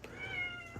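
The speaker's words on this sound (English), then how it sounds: "kitty cat" A house cat gives a single short, clear meow lasting under a second, with a faint rustle near the end, heard close up in a quiet indoor room.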